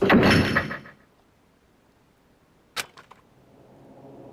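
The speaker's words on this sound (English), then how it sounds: "As soon as the door to the data center closed, I heard a strange sound." A heavy door in the Danganronpa game swings shut with a loud sliding rush and fades out. A sharp metallic latch clack and a few short clicks follow as it locks, then faint hum.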